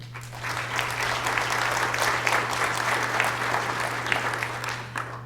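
An audience claps warmly to welcome a speaker at a rural design talk, steady applause that swells and then tapers off over about five seconds under a low hum.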